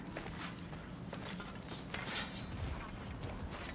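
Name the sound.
door mechanism opening in God of War Ragnarök video game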